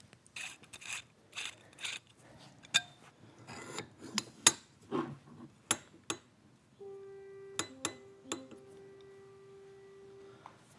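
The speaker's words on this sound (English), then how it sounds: "got to take out the screw." A screw being removed from a metalworking shop fixture: a series of ratcheting clicks, scrapes and metallic taps in an uneven rhythm, close and fairly quiet, ending in a sustained ringing metal tone, with no voices.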